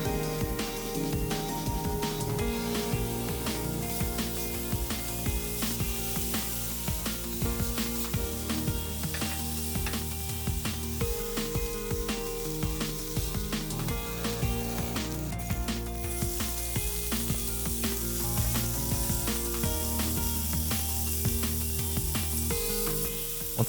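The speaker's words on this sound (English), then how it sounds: "Once again, here's my one-sided searing method at work." Thin slices of pork sear in a hot pan for a Vietnamese bánh xèo filling, giving a continuous, dense sizzle with crackling pops throughout.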